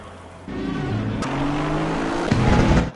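GT3 race cars rolling through the formation lap at Suzuka in a sim racing game, a steady droning engine note with shifting pitch and a brief tire chirp, loud and continuous with no talking.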